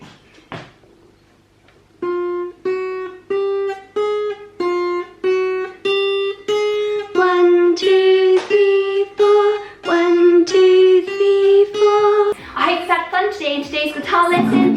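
A single high E string on an acoustic guitar is plucked with the thumb repeatedly in an even, steady rhythm, about a dozen notes ringing clearly, ending in a quick busier flurry.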